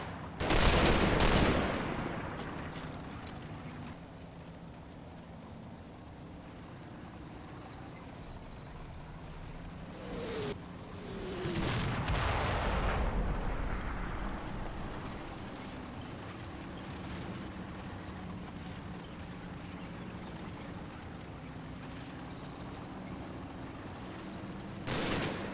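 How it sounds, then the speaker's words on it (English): Battle gunfire from a Combat Mission game fight around Mondrainville during Operation Epsom: scattered loud bursts and rattling volleys with a rumbling vehicle engine droning steadily underneath. "They use preemptive fire to try and spot any potential ambushing SS."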